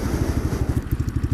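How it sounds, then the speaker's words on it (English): A Chinese motorcycle engine runs close up with a rapid, rhythmic low chugging pulse and faint clicking, steady throughout the short burst. "Now I'm hearing a clicking. It sounds like it's from the engine."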